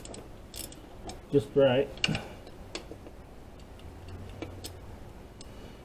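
An angle socket wrench ratcheting on an engine's lower intake gives rapid clicking bursts and a few metallic ticks close by, with a brief spoken remark in between.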